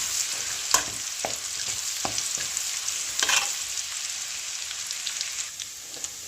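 Crushed spice masala and two sprigs of curry leaves frying in oil left from frying fish: a steady bright sizzle with occasional crackles and spoon clicks.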